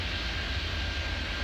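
Airport Madness 3D video game: a plane's engine drones in a loud, continuous roar with a low rumble beneath, steady throughout, no voices.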